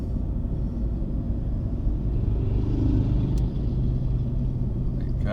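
Dense freeway traffic streams past with a constant heavy rumble, cars blending into one loud, close, unbroken roar with a faint higher whoosh near the end.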